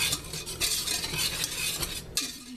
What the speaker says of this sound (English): I'm going to make sure this is all stirred around.